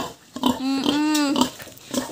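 A single pig on a backyard farm lets out a drawn-out, nasal squeal-grunt lasting about a second, close and fairly loud, with a few shorter snorts around it and no talking.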